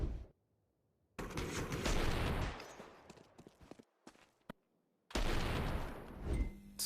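Gunfire rattles through a Counter-Strike video game match in two long, loud bursts of rapid shots, with scattered single cracks and brief silences in between.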